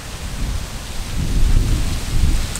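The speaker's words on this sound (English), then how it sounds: "the storm got here sooner than it was supposed to" A thunderstorm rolls overhead with a deep, swelling rumble of thunder that builds through the middle and end, over a steady wash of falling rain, loud and close.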